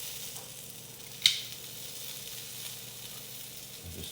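Eggs frying in a skillet on a Samsung induction range give off a steady, faint sizzle, with one short sharp click or tap near the middle.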